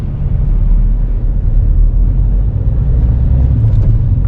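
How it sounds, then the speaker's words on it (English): A big lorry rumbles past on a road near West Drayton, a steady loud low drone from close by that holds evenly throughout with no talking. "That's a big ass lorry."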